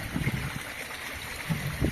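Water trickles down the overflow drain of a goldfish tank in a soft, continuous splashing dribble with a few slightly louder gurgles, close by and alone.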